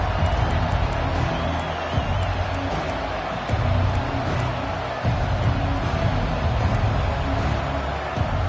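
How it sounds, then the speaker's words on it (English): A packed stadium crowd roars continuously at a college football game, a dense, loud wall of cheering that holds steady throughout with no clear breaks. "This crowd, full throat, spreading the eardrums and letting them know it's going to be a long day."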